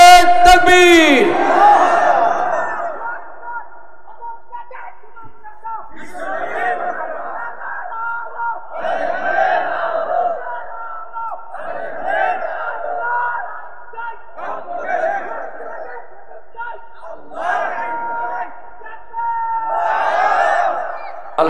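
A crowd answers a leader's takbir call, chanting in repeated loud bursts roughly every two to three seconds, with the leader's voice opening the sequence.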